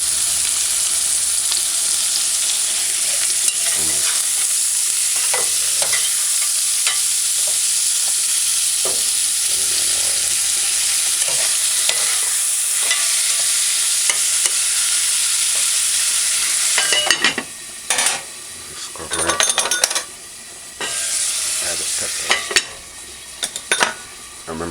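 Cooked ackee and salt fish sizzling in a frying pan, with a steady loud frying hiss and a spoon scraping and clinking against the pan through the later part.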